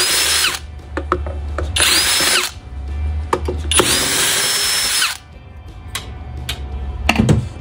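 A power screwdriver or drill runs in several short bursts, whirring on and off near at hand while backing screws out of the casing of a Naniwa meat grinder, with small clicks and ticks between bursts.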